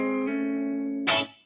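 Electric guitar note slides up from the fret below into a sustained tone that rings steadily, then ends with a brief bright scrape or pick noise before fading; no talking.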